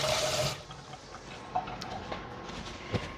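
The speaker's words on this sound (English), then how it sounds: "Gotta wash my hands first." Running tap water splashes in a sink while hands are washed, starting with a louder burst of flow and settling into a steady stream with a couple of small clatters.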